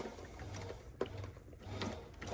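A sewing machine stitches together the facings of a Loake 1880 leather brogue shoe during a split vamp repair, giving a steady low mechanical whirr with a sharp click partway through.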